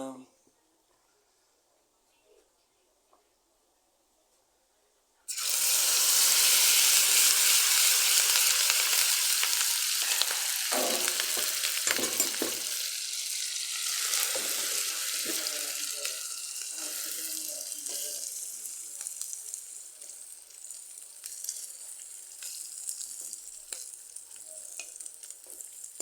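After about five seconds of near silence, rice omelette mixture hits hot oil in a pan and bursts into a loud, bright sizzle that slowly settles into steady frying crackle for the rest of the span.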